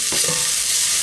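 Spring onions sizzle in a saucepan or frying pan, a steady loud hiss of frying with a brief stirring scrape near the start.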